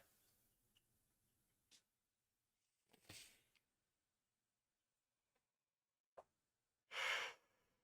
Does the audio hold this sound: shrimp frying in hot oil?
no